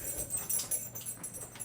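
Pet dog whimpering indoors, a few short, faint, high-pitched whines repeated close by over quiet background hiss.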